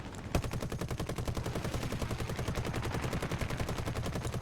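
Rapid automatic gunfire from players shooting in a video game, a dense, nonstop rattle of overlapping shots that starts with a sharp crack and runs for several seconds at steady loudness, with no voices.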